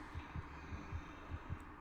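Heartbeat effect in the game Among the Sleep: a series of deep, soft double-thuds beating regularly over a droning room-tone hum, close and fairly quiet, with no talking.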